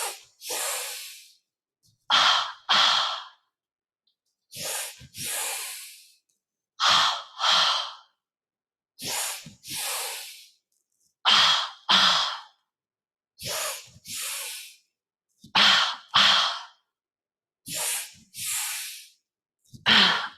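Deep yoga breathing: forceful nasal inhales and exhales in close, regular pairs repeated about nine times, loud rushes of air separated by brief silences, with no talking.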